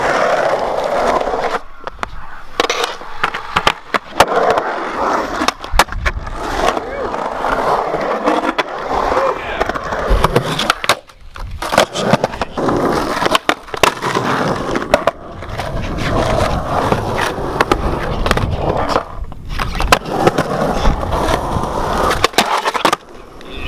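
Skateboard wheels roll loudly over concrete at Sound Skatepark, North Carolina, a park with a bowl and a wedge ramp, broken by repeated sharp clacks, pops and grinding scrapes from tricks throughout a long close-up session.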